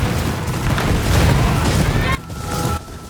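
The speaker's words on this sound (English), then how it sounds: "shooting a comically large stockpile of explosives" A huge stockpile of explosives blows up in the video game Ghost of Yotei, a loud, sustained roaring blast with rumbling debris that cuts off abruptly into quieter game sound.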